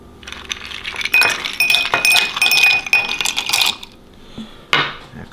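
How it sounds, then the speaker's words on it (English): Ice cubes clink and rattle into a cocktail glass holding Crown Royal for an Old Fashioned, a busy close-up clatter of glassy chinks that ends with a few scattered knocks. "Then add a bit of ice."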